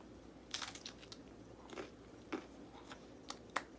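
Someone chews crunchy food close up while eating, producing scattered soft crunches and bites at an irregular pace over a quiet room.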